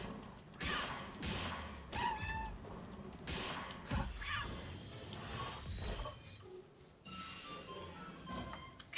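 Several video-game cats meow repeatedly over a busy mix of thuds and clattering game effects in a survival-building game, the calls rising and falling at irregular moments.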